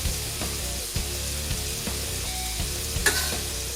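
Cheese and bacon sizzle on a Vevor 22-inch 1600W electric flat top griddle, giving a steady close frying crackle with small scraping and tapping sounds scattered through, no talking.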